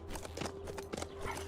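Horse hooves clip-clopping while riding in the zombie survival video game HumanitZ, a brisk, rhythmic run of hoofbeats at moderate, steady volume.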